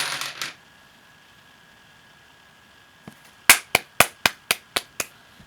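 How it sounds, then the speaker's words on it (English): Dominoes clattering on a table during a game, a quick rhythmic series of about eight sharp clacks close by after a short faint clatter, with quiet in between. "they're playing with dominoes over there"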